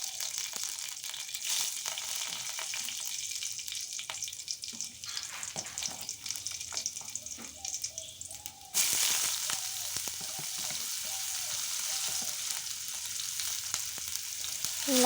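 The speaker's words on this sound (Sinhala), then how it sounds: "තෙල් ටික රත් වෙනකොට සුදු ලුණු කරපිංචා එකතු කර ගන්නවා මේකට." Garlic and curry leaves crackle and sizzle steadily in hot oil in a pan, a dense close frying hiss that jumps louder partway through as more goes in, with light stirring scrapes and no talk.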